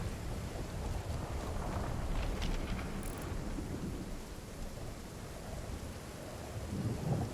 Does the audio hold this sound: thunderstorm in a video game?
yes